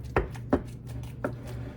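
Overripe bananas being mashed in a bowl for gluten-free banana bread, three sharp soft thuds spaced irregularly over a steady low hum, close and fairly loud.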